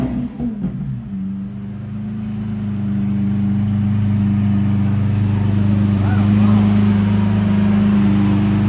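Lamborghini engine running loud and close, a low steady rumble that swells gradually as the revs build and hold, with brief voices at the start.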